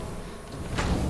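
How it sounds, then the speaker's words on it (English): Outpost habitat door sliding open in the space game Starfield, a single short swoosh with a soft thud, close and fairly quiet over a low ambient hum. "Go ahead and open our door."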